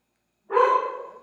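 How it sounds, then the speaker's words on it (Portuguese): A pet dog gives a single sharp, fairly close bark that rings briefly and fades, with no voices around it. "meu cachorro está latindo bastante"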